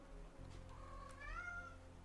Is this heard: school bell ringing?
no